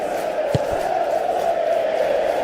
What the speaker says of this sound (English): Now the crowd are demanding that they just finish this off.